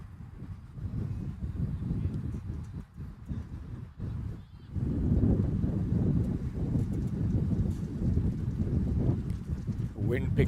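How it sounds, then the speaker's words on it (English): Strong gusting wind buffets the microphone at Danville Park cricket ground during an over-60s USA vs Canada match, a steady low roar with a brief lull before building louder again. "Wind picking up a lot of speed now here at Danville Park."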